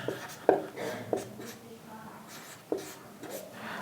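Chalk scratches a word onto a classroom board, with a few sharp taps and short scraping strokes while a teacher speaks.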